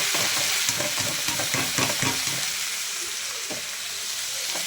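Mixed vegetables fry steadily in a pan, giving a loud, close, continuous sizzle broken by brief scraping stirs, with no talking.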